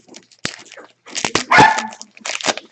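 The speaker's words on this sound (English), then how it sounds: "my wife let my dogs down and they're going crazy" Excited house dogs barking in several close, loud bursts, with yips and scrabbling between barks and no talking over them.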